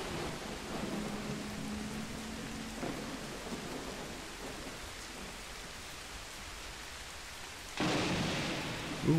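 In the Bigfoot video game, steady rain hisses over a low rumble of thunder, with a louder burst of rain and thunder swelling near the end.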